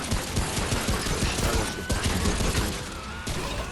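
Pistol fire in the video game Remnant From The Ashes comes as a fast, dense string of sharp shots and impacts, loud and close throughout.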